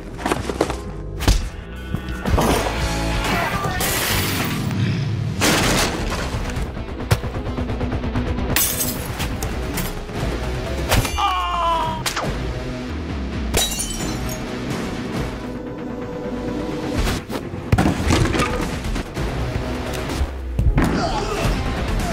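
Action-movie fight at a mafia hideout entrance as John beats down the guards: a dense run of punches, thuds, slams and crashes over a music score, with a voice narrating throughout.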